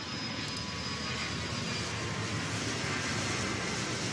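An airplane taxis at an airport in the Airport CEO game, a continuous, steady jet-engine roar with no breaks.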